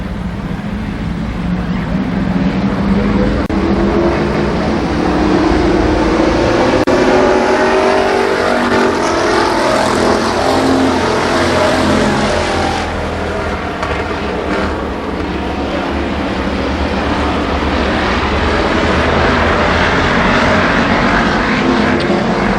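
Street stock cars roar through a heat race at Columbus Motor Speedway, a dense loud pack of engines droning and revving continuously, with a swell as cars pass close before easing slightly.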